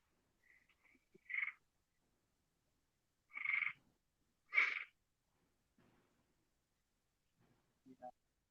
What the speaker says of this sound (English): Just record those frogs